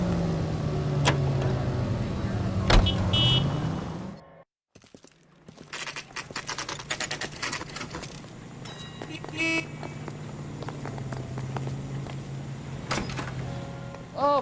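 Car driving in the video game L.A. Noire, a steady engine and road rumble running throughout with a brief dropout partway, plus a few horn-like toots and clicks, with voices talking over it.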